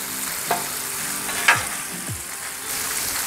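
Red sausage links sizzle steadily on a hot Blackstone griddle with a continuous crackling hiss, broken by a few sharp pops and spatters.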